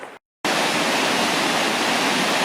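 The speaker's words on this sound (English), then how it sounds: "So the fun thing to notice about this place is there's no river feeding this waterfall" Waterfall pouring straight out of lava rock in snowy winter Iceland, a steady dense roar of falling water close by after a brief cut of silence, with no talk.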